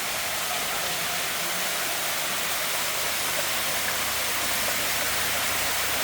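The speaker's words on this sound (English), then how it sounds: "A big large paddle aerator up here." A large paddle aerator churns water in a koi mud pond in Japan, giving a loud, steady, broadband rush of splashing water with no pauses and no voices.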